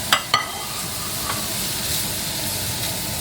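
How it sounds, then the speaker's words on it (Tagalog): Garlic, onion, carrots and ground meat sauté in a pan with a steady, close sizzle and hiss, broken early by two sharp clinks of a utensil. "dahil nagisa ko na yung bawang at tsaka yung sibuyas, pwede ko na i-mix yan kasama na ng giniling"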